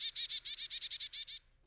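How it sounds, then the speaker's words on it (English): A Carolina chickadee gives a rapid series of about a dozen clear, high, buzzy chirps in quick even rhythm, close and distinct against a quiet background before stopping abruptly. "The most common and readily seen is the Carolina chickadee"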